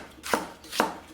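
A Katsushige Anryu 240mm gyuto knife with a convex grind chops through food on a cutting board, two crisp evenly spaced cuts landing close and clear without talk.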